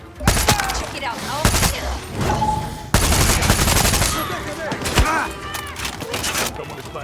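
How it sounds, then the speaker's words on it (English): Gunfire crackles through a Far Cry 6 firefight, repeated sharp shots and bursts at varying distances, loud and chaotic, with a voice speaking briefly over the action. "Someone is firing."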